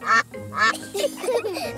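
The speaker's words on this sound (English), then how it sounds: "It is a duck-billed platypus." A cartoon duck-billed platypus gives two loud, nasal quacks close up, then other voices chatter right after.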